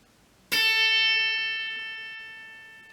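A single plucked guitar note on the 5th fret of the high E string rings out clearly after a short pause, sustaining and slowly fading over a couple of seconds.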